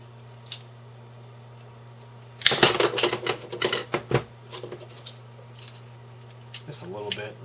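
Plastic being trimmed from the eject button on a computer case bezel of an eMachines tower, a burst of close, dry clicking and scraping lasting a couple of seconds, then softer scattered ticks.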